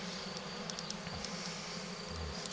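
Honeybees humming steadily inside an opened Layens hive, a close, continuous buzz with a few individual bees passing nearer.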